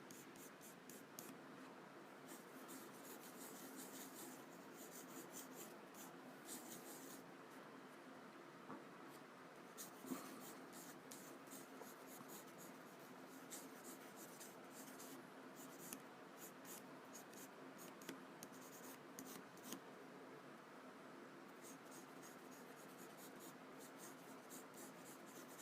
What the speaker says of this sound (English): this is the Kuratoga pencil. It's a .3 lead, HB lead